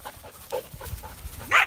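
A Malinois dog pants close by in quick, rhythmic breaths, with a short whimpering whine near the end and no talking.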